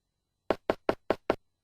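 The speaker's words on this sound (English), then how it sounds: "As you knock on the chocolate door" Five quick, evenly spaced knocks on a chocolate door in the King's Quest video game, each rap crisp and close, with silence around them.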